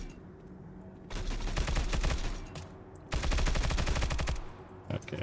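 Two long bursts of rapid automatic machine gun fire in the video game Stalcraft, each lasting about a second and a half, loud and close, with a short quiet gap between them and a brief shot at the end.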